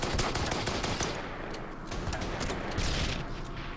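Dense battlefield gunfire from the wargame Order of Battle, a steady barrage of overlapping shots and rattling bursts that stays loud and busy for the whole stretch, with no voices over it.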